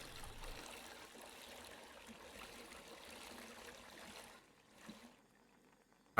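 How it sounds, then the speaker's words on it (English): Ten litres of water poured into a brewing pot in a beer brewing simulator game, a continuous gushing trickle at moderate level that tapers off and stops, followed by near silence. "Pick it up. Pour it in."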